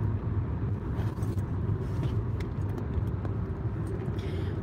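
Steady low road rumble from inside a moving car on a road trip, continuous and fairly loud, with faint rattles and clicks on top and no talking.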